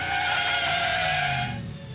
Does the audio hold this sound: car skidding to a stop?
yes